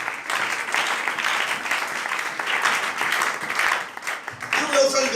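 Church congregation clapping in a sustained, crowded burst of applause that swells and eases slightly, with a brief other sound entering near the end.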